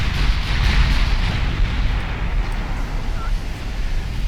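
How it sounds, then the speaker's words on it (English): Sustained deep rumbling roar from a ship's ammunition detonation in a naval warfare video game, loud and steady throughout without distinct separate blasts. "Ammo detonation."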